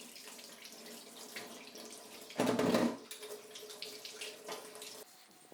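Water from a sink tap runs as vintage mountain bike parts are rinsed. There is a quiet, irregular trickle and splash, then a brief louder gush for about half a second before it falls back to soft dribbling.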